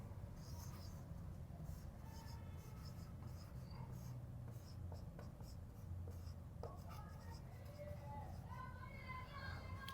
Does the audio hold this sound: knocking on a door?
no